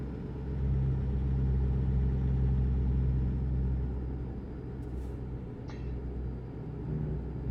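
A truck engine in American Truck Simulator drones at a steady low rumble, close and continuous, with a brief faint click partway through and no talk.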